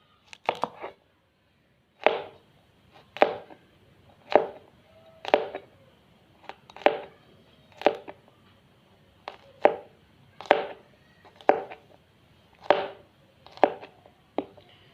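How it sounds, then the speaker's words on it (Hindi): Garlic cloves being finely chopped with a knife on a board, about a dozen sharp separate chops at an uneven pace, close and fairly quiet, with no talk. "ये 6 अदद लहसुन लिया हमने, इसे थोड़ा सा बारीक काट लेंगे।"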